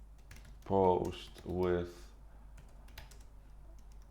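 Quick clicking keystrokes on a new computer keyboard patter close by, with a brief spoken phrase over the start of the typing.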